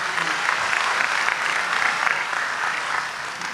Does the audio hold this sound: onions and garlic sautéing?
no